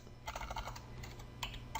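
Typing on a computer keyboard to enter a virtual machine name: a quick run of close, crisp key clicks in uneven bursts, followed by a couple of louder isolated keystrokes near the end, with no voices.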